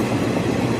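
Passenger train 06190 from Trichy to Chengalpattu rolling along, a steady dense rumble of carriages and track noise filling the space, loud and continuous with no voices.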